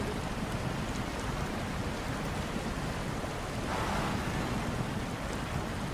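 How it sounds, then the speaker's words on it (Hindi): Fast-flowing river water in the SnowRunner truck game rushes in a dense, steady roar, a continuous churning wash with a slight swell near the middle and no speech. "पानी तेज है, पानी का बहाव तेज है"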